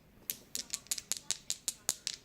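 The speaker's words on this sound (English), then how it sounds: "So I roll 2 red dice" Two red dice rolled in a tabletop wrestling board game, a rapid run of about eleven sharp, evenly spaced clicks and clatters on a hard surface, close and fairly loud.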